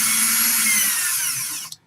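Power drill spinning steadily while twisting fibre held under tension, a loud continuous high whine that cuts off near the end.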